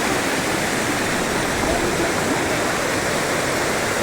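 The Bhairavi river at Rajrappa flows in a loud, continuous rush of water, steady and close, like a small waterfall, with no voices.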